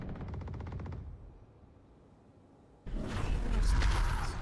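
Odin machine gun spraying in a Valorant match, a dense rapid burst at first, a short lull, then a louder sustained stream of heavy automatic fire with impacts.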